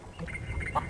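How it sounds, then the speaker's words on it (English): A feral chicken on Plunder Island in the video game Curse of Monkey Island gives a short, nasal squawk, close and fairly loud, over a soft game background. "Plunder Island feral chicken."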